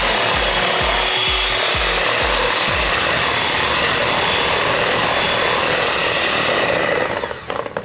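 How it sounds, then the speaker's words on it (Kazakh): An electric hand mixer beats four eggs for waffle batter, a loud steady whirring with a rhythmic knocking pulse in the first few seconds, continuing alone until it winds down near the end. "Осы 4 жұмыртқаны жақсылап тұрып 2 минут миксермен."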